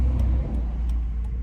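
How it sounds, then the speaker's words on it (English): Cars and trucks passing on a road beside misty autumn countryside, heard as a steady low engine and tyre rumble from nearby traffic, with faint ticking transients scattered over the drone and no voices. "Lots of trucks and cars"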